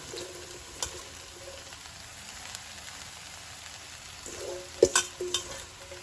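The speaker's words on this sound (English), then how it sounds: "I'll add the chopped spinach" Chopped spinach tumbles into a pan of softened ingredients for a spinach, ricotta and feta puff pastry parcel, giving a low steady sizzle with a few sharp scrapes and clatters of stirring near the end.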